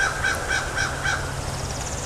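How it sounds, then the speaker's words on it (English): Crows caw outdoors in Micanopy, Florida, four evenly spaced calls from a single bird at moderate distance over a steady background hiss, no talk. "the sounds of nature, of birds all around me"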